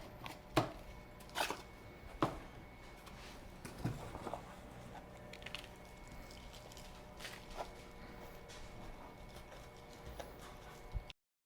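Potting soil is scooped and dropped into small 4-inch plant pots for transplanting pepper plants, giving a few dull thuds and rustles early on, then a low, steady scraping bed with faint taps.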